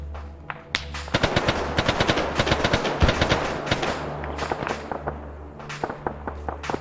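Video game gunfire crackles in rapid bursts of sharp shots, loud and close, with scattered single shots trailing off at the end.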